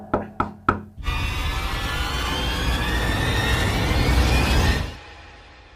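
Three quick knocks on a glass partition in a hotel, close and crisp, are followed by a loud, sustained roar that lasts several seconds and then fades out.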